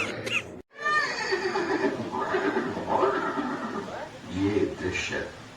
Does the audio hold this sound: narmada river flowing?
no